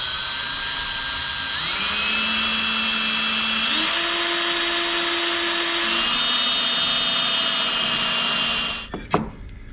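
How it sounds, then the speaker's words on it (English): A cordless drill with a 1/4 inch bit boring holes for a dual graph mount bracket whines loudly and steadily, its motor pitch stepping up and down several times before spinning down to a stop near the end, followed by a few clicks. "Now we're gonna go ahead and drill those holes out, and a 1/4 inch drill bit is what fits perfect"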